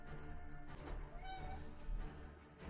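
Farkas the cat whines for food as feeding time nears, giving faint, drawn-out meows in a quiet room.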